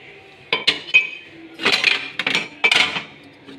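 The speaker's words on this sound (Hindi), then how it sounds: "ये मैं ट्रे रखूँगी बर्तनों की, इनके बर्तन रखूँगी" Metal dishes and utensils set down on a tray during kitchen cleanup after a pre-dawn Ramadan meal, a close series of clattering clinks and scrapes in several bursts.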